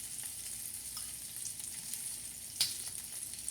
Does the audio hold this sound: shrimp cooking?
yes